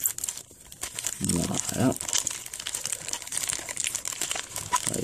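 Trading card booster packs, Pokémon among them, torn open: loud close crinkling and ripping of foil wrappers, one strong tear burst in the middle, with someone speaking French over it.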